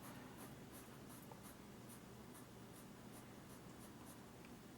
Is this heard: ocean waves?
no